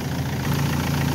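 Car engine idling steadily, a continuous close mechanical drone with an even low rumble and no breaks.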